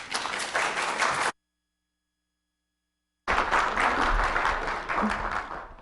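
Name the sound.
audience applause welcoming the lecturer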